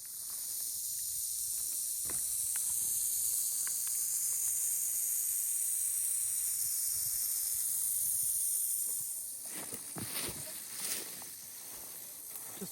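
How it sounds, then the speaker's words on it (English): A timber rattlesnake coiled on a den rock in the Pennsylvania woods gives off a steady, dry, hissing buzz of rattling for about nine seconds, then eases off, with soft handling bumps and scuffs near the end. "there was a timber rattlesnake"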